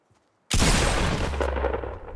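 Gunfire in Fortnite Battle Royale: after a brief near-silence, a sharp, loud shot bursts in close by and rolls into a booming tail that fades slowly.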